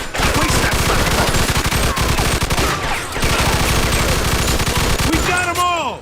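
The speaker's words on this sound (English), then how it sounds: "Stop shooting that fucking thing" Sustained gunfire in the Mafia II video game, rapid automatic bursts and overlapping shots rattling loudly for several seconds, with short shouted voices near the end.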